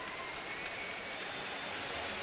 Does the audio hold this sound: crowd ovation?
yes